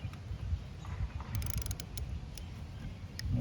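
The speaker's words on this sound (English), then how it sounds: "Then we can take our ratchet." A hand ratchet works a bolt on a tractor part, with a quick burst of metallic clicking in the middle over low, steady background rumble, fairly quiet and with no talk.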